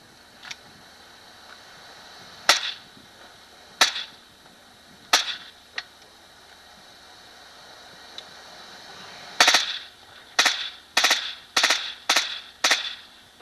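Guns firing at a 1993 Soldier of Fortune live fire demo, sharp cracks heard from a distance: a few scattered single shots, then a quicker run of evenly spaced reports over faint background hiss.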